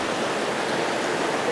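Steady broadband rush of a river current running high after rains near Manuel Doblado, Guanajuato, close and continuous with no voices.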